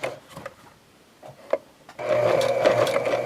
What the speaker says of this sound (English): I'm going to stitch this time at the 1/4 inch right here on the edge of the presser foot